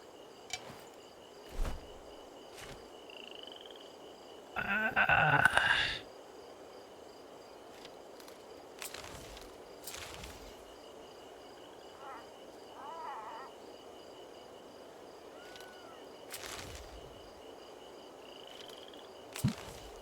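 Video game frog noises: scattered short croaks and chirps over a steady low ambient hum, with an occasional louder burst and a few soft clicks, no talk.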